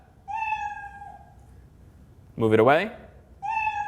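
Cat meows play from a Scratch programming project each time the cursor touches the cartoon cat, giving several short meows with pauses between them and one brief spoken phrase in the middle.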